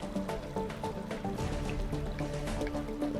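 An underground waterfall in the video game Terraria gives a continuous bubbly splashing and dripping sound, steady and moderately loud, with no talking.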